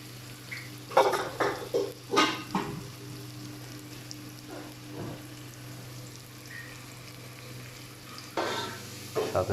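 Small fish sizzling in hot oil in a pan for a small fish curry, a steady crackling fry with occasional louder bursts of stirring and utensil clatter against the pan; no talking.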